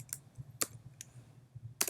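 A computer keyboard clicks as a file name is typed, a handful of quick, uneven keystrokes close and fairly quiet, with no voices.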